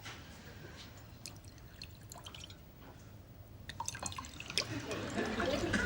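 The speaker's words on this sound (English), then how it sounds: "Why have you just poured me a double gin?" Gin poured into a glass, a faint liquid trickle with small drips and clinks, rising toward the end with light room noise around it.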